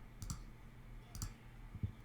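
Three sharp mouse clicks spaced about a second apart, crisp and close in a quiet room, with no voices.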